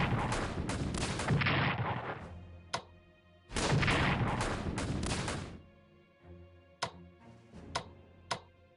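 Artillery fire from the Strategic Command WWI strategy game: two long, loud bursts of booming fire, each a few seconds long, followed by several sharp, isolated shots trailing off.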